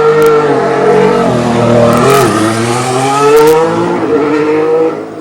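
A Ferrari Formula 1 car at pre-season testing in Jerez, 2015, pulls out with a loud, high-pitched engine whine that rises and shifts through gears, steady and close throughout.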